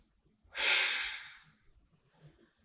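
A single long, audible breath during a dynamic vinyasa yoga session, a breathy exhale that swells and fades over about a second, close and clear against near silence, followed by faint soft movement.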